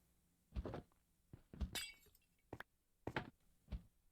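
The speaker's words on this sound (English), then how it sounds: "I'm going to break this minecart" A minecart being broken in the Minecraft video game produces a series of five or six short, sharp cracking clinks at uneven intervals, quiet and close, with no voice over them.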